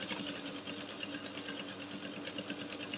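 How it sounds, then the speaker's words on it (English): A sewing machine runs steadily while stitching a cone sleeve, a continuous fast mechanical whir and needle chatter, close and even in level throughout with no voices. "So I'll keep sewing little by little, gently."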